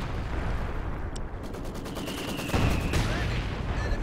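Artillery and field guns in a Company of Heroes 2 battle, loud layered booms and rattling gunfire over a dense rumbling backdrop, with a heavier blast landing near the end.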